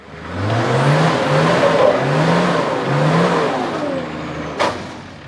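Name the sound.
single cab GQ four-wheel drive engine revving on hill climb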